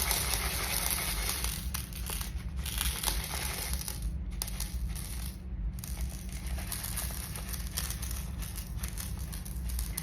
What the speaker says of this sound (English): we're just going to grab our ultra clear art glass, and this is just going to get sprinkled all around